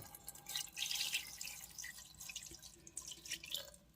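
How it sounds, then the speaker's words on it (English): Marinade liquid for ramen eggs is poured into a container, giving uneven splashing trickles and drips in bursts, close and fairly quiet, with no talking over it. "let's pour this liquid in here"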